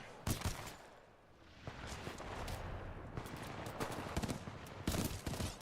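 Rapid bursts of gunfire from a burst-fire weapon in the Titanfall 2 campaign, sharp cracks repeating in quick clusters over a dense, busy game mix, loudest near the start and end.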